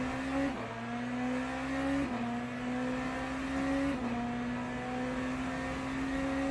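A Porsche race car engine in a Le Mans endurance racing video game, a steady loud high-pitched drone that drops in pitch at each upshift, roughly every two seconds, with no talk.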